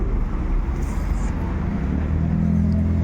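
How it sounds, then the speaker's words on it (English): A bus rolls past on a city street, a low engine rumble that holds steady and then swells and deepens toward the end as it draws nearer. "So they have nice buses."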